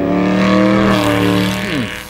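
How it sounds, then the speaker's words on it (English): A car moving along gives a steady, close, loud engine drone that sways slightly in pitch and dips lower near the end. "let's take a look at this car moving along"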